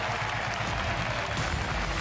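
Crowd applause at an esports tournament, a steady wash of clapping from a large audience that stays even throughout, with faint voices mixed in.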